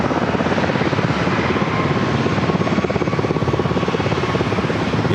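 Osprey tiltrotor aircraft take off at San Diego airport with a loud, continuous rotor throb. The fast, even beating pulse and heavy engine roar hold steady for several seconds with no voices.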